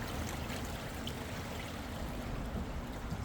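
Flood water in England rushes steadily beneath a sturdy wooden bridge. The roar is loud and unbroken, a dense wash of churning water that stays constant throughout with no voices.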